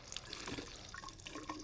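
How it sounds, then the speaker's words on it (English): Water trickles slowly from a sink tap, rinsing gram stain dye off a slide, a soft, steady splashing with small drips, close and quiet, with no talking. "trickle coming down the sink"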